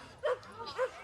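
A dog gives two short, yippy barks at a festival dog competition, the calls close and fairly quiet amid light background chatter.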